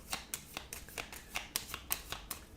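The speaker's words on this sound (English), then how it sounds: "And now we just shuffle these up" Cards from the Earth board game are shuffled by hand, giving a quick series of about a dozen crisp, close riffling snaps in a regular rhythm, with no talking.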